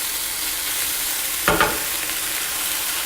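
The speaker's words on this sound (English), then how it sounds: "So I'm just going to leave this to saute on the pan on about a medium heat" Thinly sliced garlic sizzles steadily in a pan over medium heat, a loud continuous frying hiss broken by a brief scraping clatter of stirring partway through.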